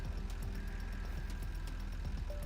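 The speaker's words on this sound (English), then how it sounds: "AI tractor demolishing my factory." An AI-driven tractor engine in the game Satisfactory runs at a steady, rough idle with a rapid knocking pulse, loud and continuous, with faint mechanical clanks over it.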